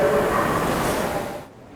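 Seoul subway Line 8 train at Byeollae Station on the extension from Namyangju, Gyeonggi-do to Gangdong-gu, heard as a steady, loud rumbling roar that holds for over a second and then drops off quickly.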